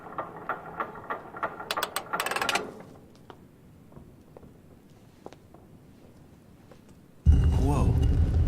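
A ratcheting mechanism clicks and grinds as a shield is turned to face a sword in a puzzle in The Council video game. A quick run of gear clicks starts loud, then fades into quiet, and a loud rumble cuts in at the end.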